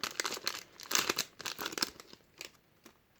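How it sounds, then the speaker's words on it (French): Stiff Pokémon booster pack wrappers crinkle and tear in a run of sharp, close crackling bursts, loud at first and then thinning to a few scattered crunches. "ils sont durs à ouvrir ces boosters là"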